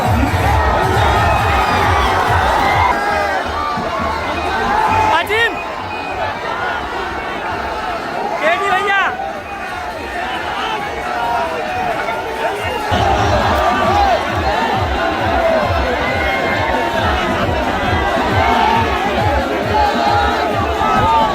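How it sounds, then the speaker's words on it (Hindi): Large, dense crowd at an Akhilesh Yadav rally in Sant Kabir Nagar surging toward the stage in a near-stampede, a loud continuous roar of shouting and cheering voices with bursts of yelling throughout. "अखिलेश यादव की सभा में भीड़ काफी बढ़ गई थी"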